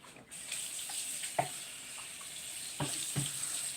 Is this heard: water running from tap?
yes